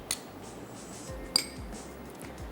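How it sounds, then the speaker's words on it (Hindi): A utensil stirs yogurt into a pot of lauki gosht, giving a few sharp metallic clinks against the pot over soft, repeated scraping and mixing sounds, close by with no talking. "मिक्स भी करते जाएंगे और दही ऐड करते जाएंगे"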